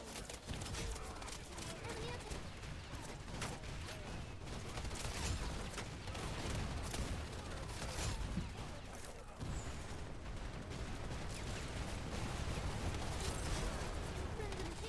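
Gunfire in the video game Wild Assault, scattered shots and distant volleys with mechanical clatter during a firefight, a busy, continuous mix at moderate level beneath a voice talking throughout.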